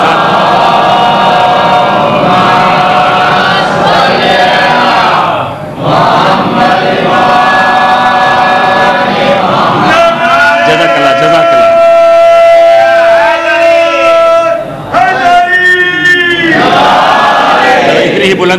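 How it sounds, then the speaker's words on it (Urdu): A large crowd at a majlis chants slogans in loud, sustained unison, voices rising and falling in waves with brief pauses between rounds of chanting. "نعرہ بھی تو لگاؤ نا دوستو"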